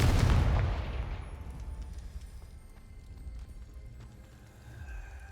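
A Confringo fire spell lighting a brazier in the video game Hogwarts Legacy, a loud whooshing blast that flares up at once and then settles into a low rumbling crackle of burning fire.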